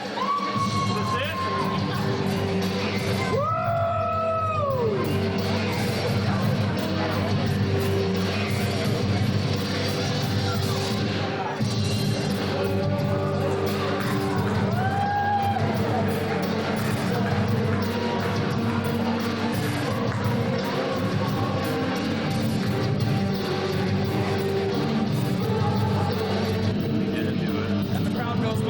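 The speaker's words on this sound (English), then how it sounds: "And the crowd goes wild." A crowd at a PPW Trojan Slam wrestling show cheers, whoops and shouts continuously and loudly for the whole stretch, with rising excited calls standing out above the roar.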